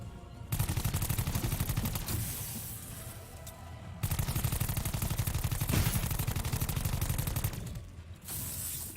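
Rapid automatic gunfire from a weapon in a zombie video game, a loud sustained burst that pauses briefly and resumes, with short gaps between volleys.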